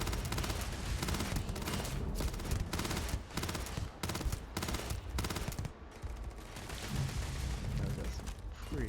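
Rapid bursts of video game weapon fire crackle almost continuously, with short gaps and mechanical clatter between volleys, loud and close throughout.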